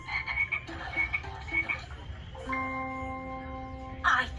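Cartoon frogs croak in a repeating rhythm at a frog bog near a lake, with a bright chiming tone joining over a steady low background and a short burst of sound at the end.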